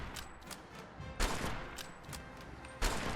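A Select Marksman Rifle in Fallout 4 fires .308 rounds in a quick string of sharp shots, with two heavier reports standing out, moderately loud and without speech.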